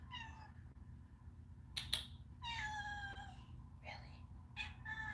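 A house cat meows several times indoors, each cry clear and fairly near, separated by short pauses against a quiet low hum, with a brief rustle between calls.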